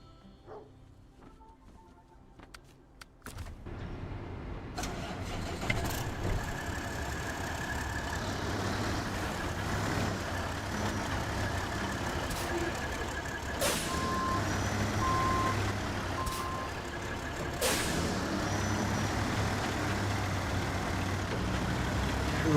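A heavy truck in the SnowRunner video game, driving with a steady engine drone, backup beeps and air brake hisses, heard alone at moderate volume after a quiet start.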